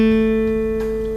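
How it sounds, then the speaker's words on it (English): One sustained guitar note played on the second fret of the G string as part of a fingered F major chord, ringing steadily and clearly on its own with a slow, gentle decay. "So the 2nd finger on the 2nd fret on the G string should sound like this"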